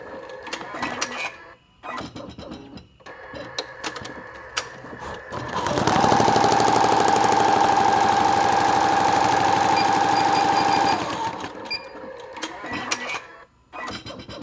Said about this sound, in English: your machine will not sound the same as when you're doing like a traditional embroidery